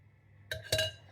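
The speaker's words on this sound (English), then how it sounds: "Right, I'm going to put these in the oven." Metal cake trays clink twice as they slide into a home kitchen oven, two short, bright knocks a quarter second apart against a quiet background.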